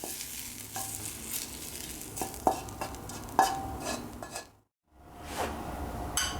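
Caramelized apples are scraped and lifted out of a hot pan, with utensil clinks and scrapes over a low sizzle, a brief silence, then the sizzle returning.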